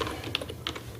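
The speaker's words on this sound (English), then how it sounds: "Let's type these in." Quick clicking keystrokes on a computer keyboard, a few distinct taps in an irregular rhythm, close and fairly quiet with no talking.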